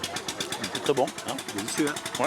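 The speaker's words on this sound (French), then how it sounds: "il y a notre tracteur qui démarre là" Tractor engine at an agricultural fair, a steady throbbing chug running close under people chatting and eating.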